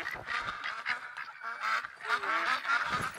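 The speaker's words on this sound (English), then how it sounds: "I just watched these ducks fly in as I was leaving" Ducks in the hunting game theHunter: Call of the Wild, a flock arriving with repeated nasal quacks and honks overlapping in quick bursts, moderately close and continuous.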